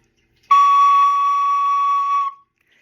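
A bright, piercing soprano recorder note, a high C sharp, sustained for nearly two seconds, clean and loud, ending abruptly into silence.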